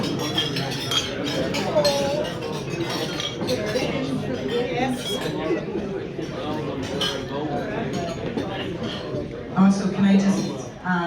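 Glasses clinking during a toast at an Irish National Foresters function, bright scattered clinks and cutlery taps mixed with chatter and people talking throughout, with a brief louder burst near the end.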